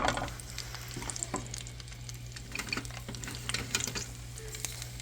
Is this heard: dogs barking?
no